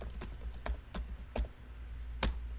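Typing a name on a computer keyboard: a handful of soft, separate key clicks spaced irregularly, close and quiet over faint room noise.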